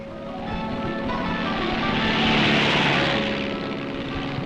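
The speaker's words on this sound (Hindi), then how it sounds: "HT-2 नामक ये नए ढंग का ट्रेनर हवाई जहाज यहीं बनाया गया है।" An HT-2 trainer aircraft built by the Hindustan Aircraft factory in Mysore drones with a steady propeller roar that swells slightly as it passes and then eases off, loud and continuous, with no voices.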